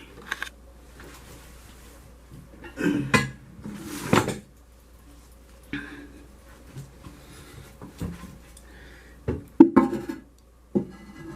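Ceramic toilet tank lid being set back on and shifted into place: a series of separate hard clunks and scrapes with quiet gaps between them, close and moderately loud.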